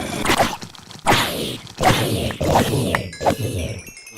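Crowd of Minecraft zombie-farm mobs struck repeatedly with a sword: a dense, noisy clamor of groans and sharp hit thwacks recurring every second or so, loud and continuous.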